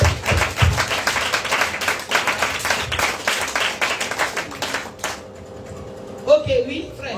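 A church congregation at a tabernacle service claps and cheers loudly, dense rapid applause with shouts lasting about five seconds, then cutting off abruptly into a quieter room with a brief voice.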